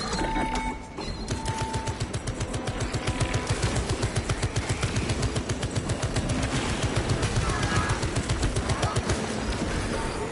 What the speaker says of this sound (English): Activating Tarantula sentry gun.